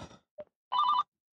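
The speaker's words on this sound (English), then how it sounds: "Father Chip is getting a call" A phone rings once inside a parked car with an incoming call: a single short electronic trill that follows a brief murmur and a small click.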